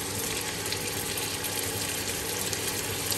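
Chopped onion frying in hot duck fat and oil with cloves, cinnamon, cardamom and bay leaf, a steady loud sizzle that holds evenly throughout.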